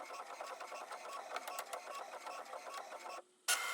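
An inkjet printer runs a bookmark sheet in highest-quality mode, a steady mechanical whir with rapid rhythmic clicks and ticks of the print head, pausing briefly near the end before starting up again, close and fairly loud.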